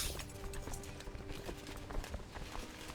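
Hooves of horsemen riding in Crusader Kings 2, a busy muffled clip-clop of several horses moving over ground, steady and mid-distance with a low tonal hum behind.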